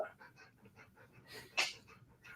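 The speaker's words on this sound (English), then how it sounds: "Because mine is freaking out all day." An agitated dog pants close by in quick, uneven breaths, with faint whimpers and a brief louder huff near the end.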